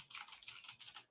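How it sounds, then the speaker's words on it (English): Faint, rapid clicking comes from a computer keyboard during an esports match cast, a quick flurry of soft keystrokes heard at a distance. "I'm typing in the wrong chat."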